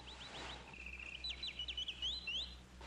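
A caged bird singing: a bright, rapid series of high chirps and warbling trills, clear and fairly close, against a quiet indoor background with a low hum.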